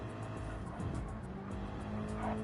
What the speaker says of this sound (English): Here comes that GR1 car.